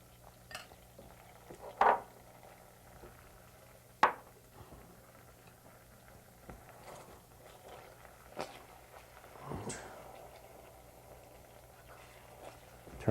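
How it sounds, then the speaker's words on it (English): Pot on the stove being stirred, with scattered clinks and scrapes of a utensil against the pot spaced irregularly, a couple of louder knocks among quieter rustling. "You want to stir it until it gets creamy"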